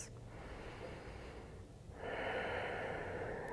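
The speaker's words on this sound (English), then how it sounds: "Deep belly breaths." Deep belly breaths during a core-strength vinyasa yoga flow: a long, breathy exhale followed by a louder, rushing inhale-exhale, close to the microphone with no talking.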